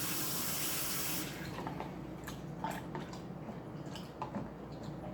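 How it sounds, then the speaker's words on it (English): Tap water running over food to rinse off salt, a loud steady gush that drops after the first second into a softer running stream broken by splashes and drips, with no talking. "Let me wash the salt off and remix it."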